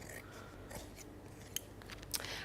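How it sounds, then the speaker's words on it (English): Scissors trim paper for a lace-edged die-cut craft project, a few quiet snips with two brief sharper cuts near the end, close by over low room noise. "Let me just trim that off."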